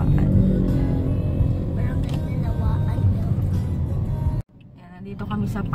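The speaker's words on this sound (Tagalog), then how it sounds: "Dami pa ng traffic dito." Car driving through road traffic in Pasig, with steady close engine and road rumble as voices talk over it. The sound drops out abruptly near the end, then builds back up.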